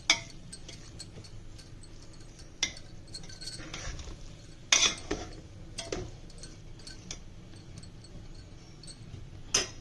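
A spoon clinks against a pot while stirring poha sweet pongal, with irregular light metallic taps and scrapes spread across a quiet kitchen background and one louder knock partway through.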